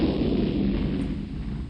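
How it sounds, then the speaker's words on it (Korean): Explosion sound effect representing the Big Bang: a sustained, loud, rumbling roar of broadband noise with a heavy low end, continuous throughout and slowly easing off, with no voices. "폭발음이 들렸는데요"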